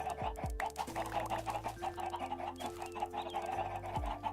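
Video game chickens cluck repeatedly in short, overlapping calls, layered over sustained tonal game music at a steady level without speech.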